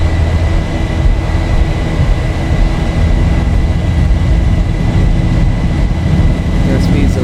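Airliner jet engines in X-Plane 11, a Boeing 737 running up to takeoff power: a loud, steady, broadband roar with heavy low rumble that holds constant throughout.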